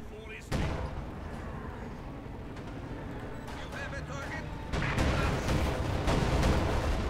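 Tank guns fire in the Company of Heroes 2 strategy game, sharp booming shots scattered over a noisy battle bed, getting denser and louder toward the end, with a commentator talking over them.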